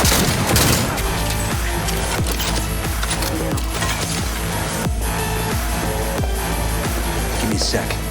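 Rapid gunfire fills a firefight in the video game Cyberpunk 2077, dense bursts of loud, close shots cracking repeatedly throughout, with voices shouting in the mix.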